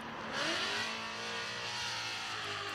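Drift cars at Mid-Ohio Sports Car Course, heading up toward the carousel at turn 12, roar with sustained high-revving engines, a loud swell near the start settling into a steady continuous drone.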